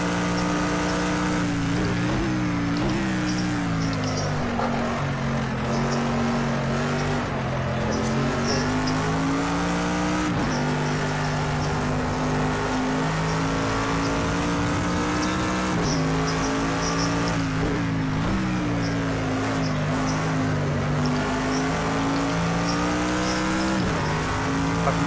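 A GT3 race car in the Project Cars 2 driving game screams steadily at high revs for the whole stretch, its pitch sliding up and down through gear changes with faint tire noise.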